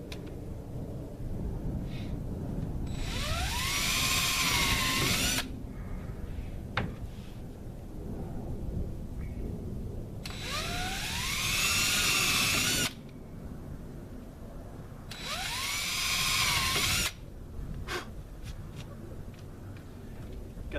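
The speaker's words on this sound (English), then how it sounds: "Got these little countersink drills, drill bits at Harbor Freight." A power drill fitted with small countersink bits bores into wood while a chicken coop is being built, three whining bursts of a few seconds each with rising and falling pitch, separated by quieter pauses with faint clatter.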